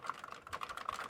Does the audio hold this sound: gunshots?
no